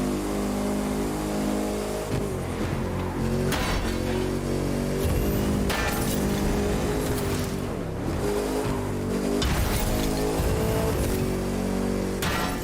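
Race cars and AI traffic in The Crew 2 racing video game, engines droning and revving continuously and loudly throughout, with shifting pitch as cars accelerate and pass, no voices.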